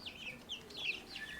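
Young backyard chickens, past the chick stage and now like small hens, cluck and chirp softly in a steady overlapping stream of short calls close by, with no talking.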